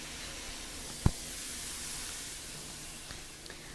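Mushrooms sautéing and frying over high heat in a pan, a steady close sizzling hiss with one sharp clack partway through and a couple of faint ticks.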